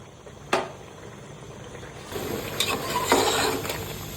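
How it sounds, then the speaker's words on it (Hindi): Karahi gosht cooking on a high flame in a wok, with a spoon clinking against the pan and a sizzle that swells in the second half, fairly close and moderately loud. "इसको जब तक इसका पानी ना सूख जाए इसी तरह चम्मच चलाते रहेंगे"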